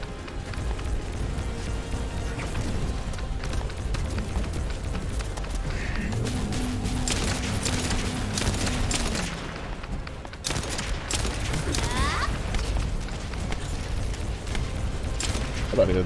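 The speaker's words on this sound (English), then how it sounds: "I thought he didn't stop shooting at me" An enemy player fires rapidly in an online shooter video game, with dense cracking bursts that run almost nonstop over a rumbling, mechanical game soundscape.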